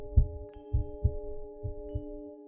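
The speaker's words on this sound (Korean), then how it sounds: "그리고 가슴이 엄청나게 두근거리고 있었다고 합니다" Heartbeat sound effect under a horror story narration: low, soft double thumps repeating at a steady slow pace over a sustained eerie hum, with no talking.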